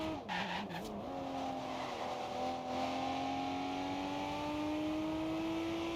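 A car in the Forza Horizon 2 racing game drives at speed with a steady engine drone that rises gradually, opening with a burst of tire skidding and squeal in the first second, loud and continuous with no talking.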